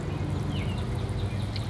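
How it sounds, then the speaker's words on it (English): Water pours and trickles steadily out through the drainage holes of an apple bonsai pot after a thorough soaking, a continuous close splashing flow with faint gurgles and no talking. "that water is pouring out the drainage holes"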